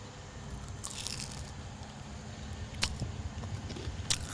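A crunchy curry puff (karipap) is bitten and chewed up close, giving soft crackly crunches throughout, with two sharper crisp bites near the end.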